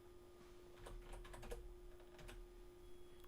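Light typing on a computer keyboard, a quiet irregular run of soft key taps in short bursts over a steady low hum, close to the microphone with no voices.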